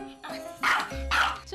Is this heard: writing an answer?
no